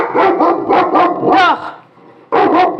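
A dog barks close by in a home, loud sharp barks in a quick run of four, a louder yelping bark, a brief pause, then two more in succession.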